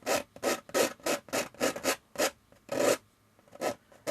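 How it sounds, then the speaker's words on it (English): Palette knife scraping old oil paint off a canvas in a landscape painting session, a series of about ten short rasping strokes in an uneven rhythm, close and fairly loud with brief pauses between. "Now, it sounds like I'm really scraping harder than what I am, but I'm not putting that much pressure on the knife."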